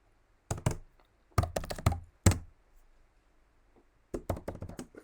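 Bursts of rapid clicking keystrokes on a computer keyboard as a dictation is typed, coming in short clusters separated by quiet pauses, close and fairly soft.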